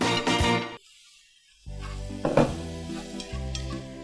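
Vegetables and bean sprouts stir-frying in a pan, with loud sizzling and stirring scrapes, a brief quiet pause, then renewed clattering sizzle as ingredients are tossed.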